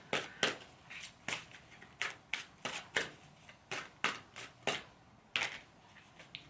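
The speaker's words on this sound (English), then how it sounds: "Just want to pull one card from the Metatron deck" A Metatron oracle deck is shuffled by hand close up, producing a series of crisp riffling flicks and papery slaps in uneven bursts, with short quiet gaps between them.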